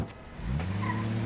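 A cab pulls away, its engine note rising and swelling over a brief second as the car moves off, close and fairly loud.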